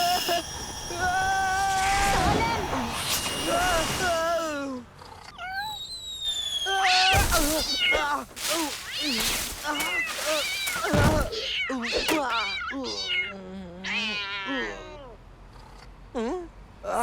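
Cartoon cat meowing repeatedly in expressive, wavering cries, loud and close, with animated voices and sound effects around it.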